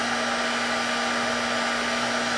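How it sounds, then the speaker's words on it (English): A heat gun blows hot air in a steady, loud whooshing hiss with a constant motor hum underneath, running alone and unbroken throughout. "that sound you hear is my heat gun"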